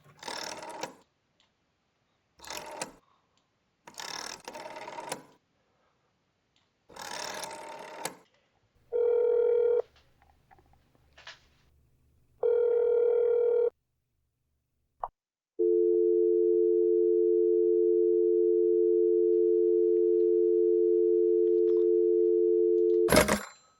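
Unanswered telephone in the game That's Not My Neighbour: several bursts of murmur, then a steady repeating two-tone ring in pulses, ending in one long sustained tone, loud and close.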